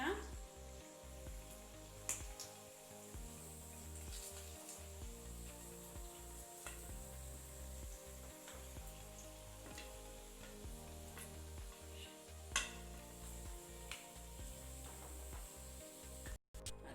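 Chicken pieces frying in a pan for restaurant-style chilli chicken, a continuous crackling sizzle with occasional sharper pops, running steadily throughout.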